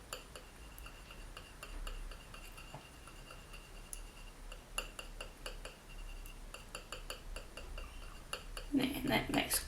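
Titanium white and ultramarine paint get stirred into liquid polymer clay, producing faint, quiet clinks and ticks of a tool against a container, with a louder burst of scraping at the end.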